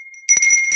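A single bright bell rings close and clear after a brief faint steady tone, its metallic partials sustaining through the short sound effect.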